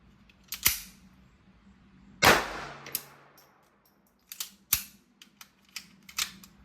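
A Ruger LCP II pistol firing .22LR Federal Premium Hammer Down ammunition, heard as a few sharp, widely spaced cracks outdoors, mixed with lighter clicks and handling clatter between them.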